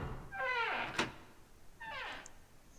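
A door opens in the video game 999 with two rising, whirring mechanical sweeps separated by a soft thunk, fairly quiet and with no voices.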